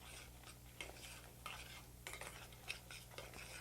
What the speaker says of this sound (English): And you just stir that in.